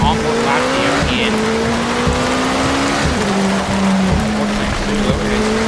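A race car engine on an on-board lap at SUGO circuit drones loud and steady, its pitch rising and dropping through shifts, while a commentator talks over it.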